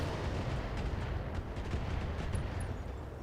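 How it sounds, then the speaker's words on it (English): Missile impacts pounding a turret in the mech combat game Battletech, a dense, continuous rumble of overlapping blasts and crackling bursts with no talk. "And we're going to hit it with a lot of missiles."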